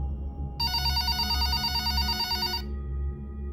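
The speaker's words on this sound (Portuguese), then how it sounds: "O telefone tocou novamente." A telephone rings in one sustained electronic trill lasting about two seconds over a low steady hum, with no voices.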